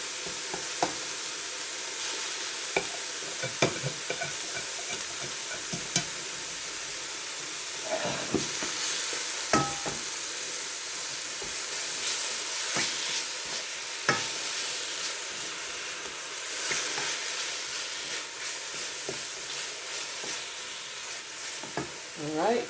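Sautéed vegetables for a lasagna sizzle in a hot pan and are stirred, giving a steady broadband hiss with scattered scraping clicks from the utensil. No voices throughout.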